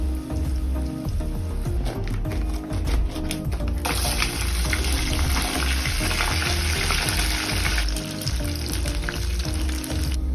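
A pancake cooks in a hot pan with a dense, close sizzle and crackle, interspersed with scraping and tapping of a utensil; the frying grows brighter and louder midway, with no voices.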